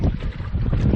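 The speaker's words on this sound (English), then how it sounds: "Oh, I love the wind." Wind buffets the microphone in a low, rumbling roar that gusts and dips across a moment on a canoe trip in the Ontario backcountry.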